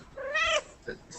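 A cat meows once, close and clear, a short rising-falling cry followed by a faint softer sound.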